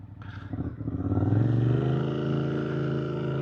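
Suzuki GSX 8R motorcycle engine running while riding, a steady close rumble that builds over the first second and then holds an even, throaty drone with no voices.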